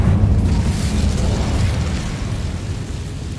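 A fire spell blast in Hogwarts Legacy: a loud, sustained booming roar with a crackling burst at the start, rumbling strongly in the lows and slowly fading over a few seconds, with no talk.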